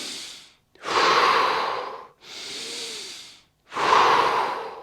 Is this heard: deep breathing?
yes